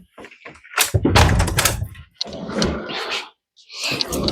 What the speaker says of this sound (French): Attendez, je vais fermer la porte.